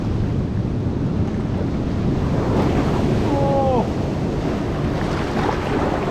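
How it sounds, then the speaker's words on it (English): Seawater surges over a shoreline rock in a continuous loud roar of surf, heavily mixed with buffeting wind on the microphone, with a faint brief voice-like sound partway through. "The water's coming over this rock here."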